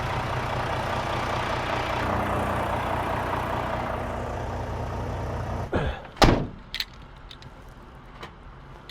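A Volvo truck idles on a cold morning with a steady, close, low diesel rumble. Toward the end the rumble thins and a few sharp door thunks and a slam break in.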